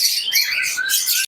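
Budgerigars of imported lineage chirp close up in an aviary at a bird farm, a rapid, dense run of bright, high chatter and squeaky calls overlapping with no pauses, loud and clear with no talking.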